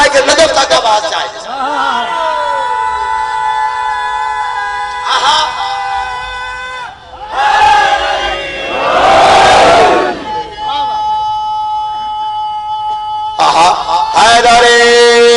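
Large crowd at a Muharram majlis in a mosque and imambargah roaring a loud religious slogan in unison, swelling into sustained massed shouting with a chanting voice over it before and after.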